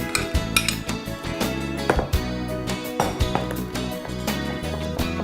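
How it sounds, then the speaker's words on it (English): Semi-set jelly stirred into a condensed milk and passion fruit mixture, with a steady run of clinks and scrapes of utensil against bowl, close and fairly loud, no voices. "We mix the condensed milk and passion fruit. We've got our jelly which we had just put it to set. It's semi-set. We mix in the jelly."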